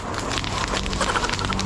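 A forest fire burning at night, steady dense crackling and rushing noise close by with no voices.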